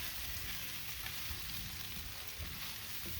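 Beef fried rice sizzles steadily on a griddle in a Big Green Egg as it is stirred with tongs or a spatula, a constant close hiss of frying with faint scraping.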